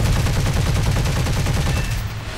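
Aircraft cannon fire during a head-on pass in War Thunder, a loud, rapid, evenly pulsing stream of heavy rounds that runs steadily, then thins out near the end.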